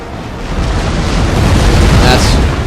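Artillery fires in the Napoleon: Total War battle at Waterloo, a dense rolling roar of booms and blasts that swells toward the end, loud and continuous.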